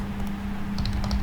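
Someone types a password on a computer keyboard with a quick cluster of light key clicks over a steady low electrical hum.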